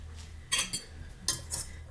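A metal utensil stirs food in a bowl, clinking and scraping in four quick, faint strokes over quiet room tone.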